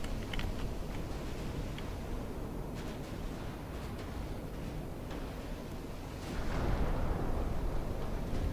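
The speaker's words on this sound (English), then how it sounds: "now we'll be pounding these two battleships because they're right next to each other" Continuous heavy battleship artillery fire from a naval warfare game, a dense roar of overlapping cannon blasts and rumbling booms that swells louder toward the end, with no voices.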